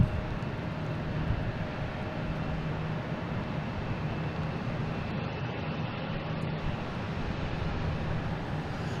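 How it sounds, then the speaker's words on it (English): A JetBlue Airbus A321 arriving from San Diego lands on runway 4 right at Boston Logan, its engines a steady, unbroken roar that holds at an even loudness throughout with no voices. "Landing on 4 right, coming in from San Diego, an A321."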